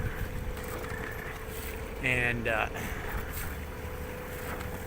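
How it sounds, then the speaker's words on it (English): A sailboat's engine putt-putts steadily at sea, a low continuous drone with wind noise throughout, while someone speaks briefly midway. "we've been putt-putting along with the engine primarily for some time now"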